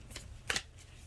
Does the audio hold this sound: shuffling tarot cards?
yes